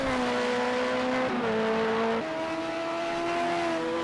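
Race car engine in a Le Mans series racing video game, recorded at the Catalunya circuit, holding a steady loud hum that steps up in pitch twice as it shifts, continuous with no talk over it.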